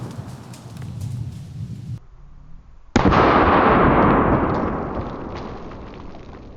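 A Triple Threat shotgun slug fired into a ballistic dummy head: after a brief lull, one sharp, loud blast cracks out, then a long noisy burst that slowly fades over several seconds.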